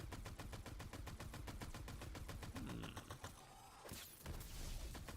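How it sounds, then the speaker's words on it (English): Rapid, evenly spaced gunfire from a weapon in the video game Tiny Tina's Wonderlands, loud and continuous, with mechanical clatter and a brief sharper burst near the end. "This gun has a satisfying fire rate to it."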